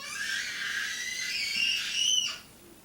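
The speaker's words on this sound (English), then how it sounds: "Apparently my son is picking up my daughter, and that is why she's screaming bloody murder." A young girl screams as her brother picks her up, a sustained shrill, piercing cry that rises in pitch and cuts off abruptly near the end, loud and close without other voices.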